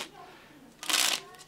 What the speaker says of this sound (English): Again, you can give it another shuffle,